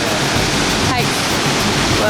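A waterfall in Slovenia at the top of a long stone stairway, a loud, steady, close wash of falling water that fills the whole clip without a break.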